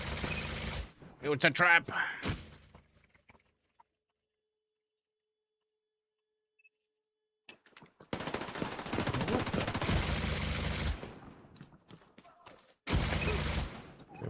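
Automatic gunfire and turret shots from The Division 2 video game in a Dark Zone fight, heard as short loud bursts at the start, then silence, then sustained rattling fire and a final burst, with brief player talk early on.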